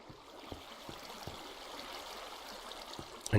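Flowing water streams in a Minecraft melon and pumpkin farm babble softly and steadily, quiet and continuous, with a few faint clicks scattered through.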